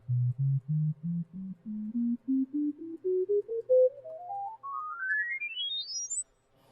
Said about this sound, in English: But I'll play the scale that I have